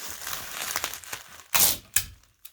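Bubble wrap crinkles and rustles as a lightweight wooden figure is wrapped for shipping. Handling noise runs steadily, with a few sharp, louder crackling bursts up close.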